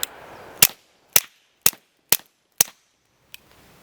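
A suppressed S&W M&P 22 Compact handgun firing Banish 22 gives five sharp, evenly spaced cracks about half a second apart, followed by a fainter sixth, each ending in a short decay, with no talking.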